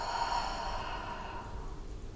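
A deep breath is drawn in and slowly let out during a spring yoga flow class, a soft airy sigh over steady background music.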